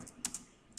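A few faint, quick clicks from a computer keyboard as keys are pressed for a Ctrl+A shortcut, short and close with quiet gaps between them.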